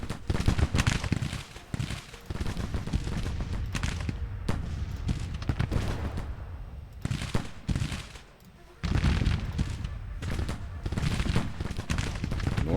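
Musket gunfire crackles through a Civil War video game battle, dense ragged volleys and scattered shots overlapping in waves, with brief lulls between bursts.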